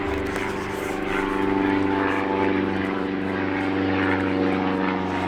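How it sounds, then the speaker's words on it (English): A propeller airplane on final approach to runway 18 or 36 at Porter County Regional Airport drones steadily and loudly, its engine hum sustained with little change throughout. "every time there's an airplane on final for runway 18 or 36"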